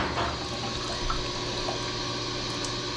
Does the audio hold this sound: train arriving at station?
no